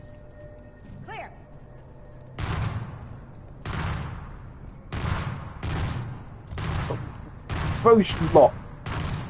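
Halo battle rifle fire in a game: five or six loud, sharp bursts spaced about a second apart, each with a quick echoing tail, with a voice speaking briefly over them.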